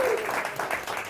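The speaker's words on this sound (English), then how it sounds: "You can applaud him." A small, intimate studio audience applauds Jerry Lewis, a steady wash of clapping that fills the whole moment, with a brief voice heard faintly at the start.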